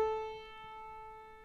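A single piano note A, its string vibrating 440 times per second, rings out alone and clear, a steady pitched tone with bright overtones that slowly fades over about a second and a half.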